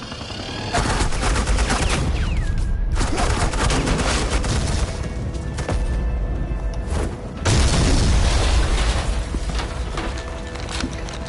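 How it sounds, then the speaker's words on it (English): Heavy suppressing gunfire in Batman: The Telltale Series season 2, episode 5: loud, dense bursts of automatic fire and booming blasts continue almost nonstop, broken by brief pauses, with no talk over the shooting. "Suppressing fire."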